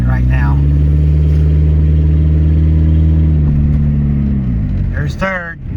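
A Ford Escort's engine hums steadily in second gear from inside the car, a low continuous drone that eases off near the end while a voice briefly speaks at the start and close.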